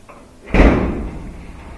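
Whirlpool dryer's front panel lowered and catching into place: a single solid thunk with a short rattling decay, close and loud, in a quiet workspace.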